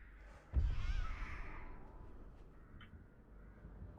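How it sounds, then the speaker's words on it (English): Crows cawing in the Dead by Daylight video game, a burst of harsh calls rising over a low game rumble, then fading into quieter ambience with one faint later call; no voices. "she's already throwing her crows around"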